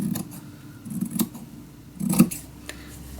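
Scissors snip through paper while pieces are cut apart for a Roaring Twenties mini album in a box, with two or three crisp close snips spread across a quiet room and no talking.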